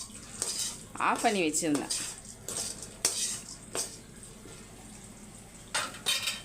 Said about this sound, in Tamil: இப்போ உருளைக்கிழங்க மிக்ஸ் பண்ணிக்கோங்க